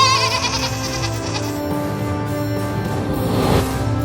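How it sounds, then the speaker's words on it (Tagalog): Goats and sheep of a Bakhtiari nomad herd in Iran bleat repeatedly and close by, several animals overlapping in a steady, loud chorus with no talking. "Kambing at tupa ang kasama mo araw-araw."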